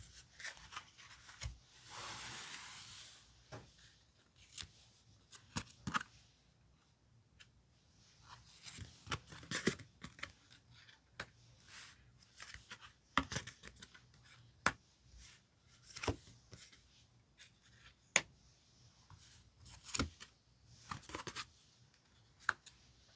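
Tarot cards handled and picked out one by one during a reading, a string of soft, quiet rubs, slides and light taps spread irregularly across the stretch, with no talk.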